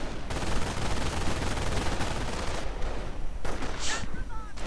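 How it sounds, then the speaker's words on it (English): Sustained machine gun fire in a World War II strategy game battle, with riflemen pinned down; dense rapid bursts roll on continuously at steady loudness, with a brief lull near the end. "Rifleman getting stuck by the MG."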